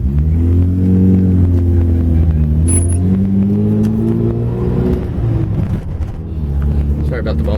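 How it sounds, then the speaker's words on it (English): A 1984 Mazda RX-7 GSL-SE with a manual gearbox cruising through a neighborhood, its engine droning loudly as the pitch rises through a gear, dips at a shift, then climbs again, with a voice talking over the engine near the end. "You can hear it shift, absolutely no problem as we cruise through the neighborhood."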